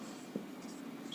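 A line is written on a board, giving a soft, close scratching that runs steadily under a faint hushed voice, with a brief tap partway through.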